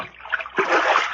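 A branch pokes into creek water, setting off splashing and sloshing that grows fuller and steadier toward the end of the short burst.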